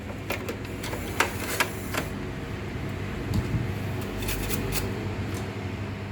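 A PS3 game console being reassembled, its hard drive cover and top casing fitted back on: close plastic clicks, snaps and scraping handling noises, several sharp knocks over a steady low background hum, with no voices.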